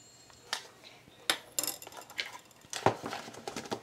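A spoon or spatula scrapes and clinks against a bowl while brownie batter of cocoa powder, flour, salt, chocolate, butter and egg is mixed, giving a few scattered, close knocks.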